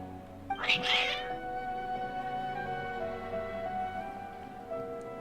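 Agitated cats meow in the video game Genshin Impact: one loud, drawn-out meow near the start, then a quiet backdrop of steady game music with no further calls.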